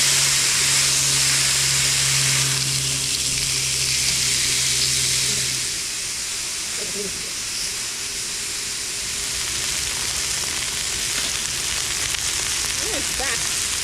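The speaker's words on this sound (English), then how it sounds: "The splattering oil." Oil splatters and sizzles steadily around a steak frying on an induction cooktop at a camp cooking setup, a continuous close hiss with a low hum early on and faint crackles later.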